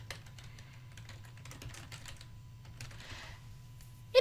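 Steady clicking of fingers typing on a computer keyboard, close and continuous over a low background hum, with no one speaking.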